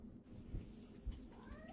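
A needy pet cat gives a drawn-out indoor meow that rises and bends in pitch, close and fairly quiet over faint room noise, with a couple of soft thumps before it.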